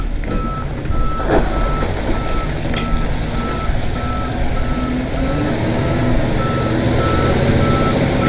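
A heavily loaded truck backs up at a septic tank installation site, its steady backup beeper repeating in a regular rhythm over a continuous low engine rumble, moderately close, with no talking.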